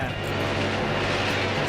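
A helicopter in the video game FUMES gives a steady, loud rotor and engine drone that fills the whole moment without a break.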